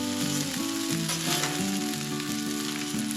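Hash browns fry on a Blackstone griddle with a loud, steady sizzle and crackle that runs unbroken throughout, close up, with no voices.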